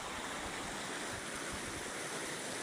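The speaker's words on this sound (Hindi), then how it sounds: "ये कुदरती चश्मा है जिसको आप देख रहे हैं।" Water pouring steadily from a natural spring, a constant broadband rushing and splashing heard up close without any break, no talking.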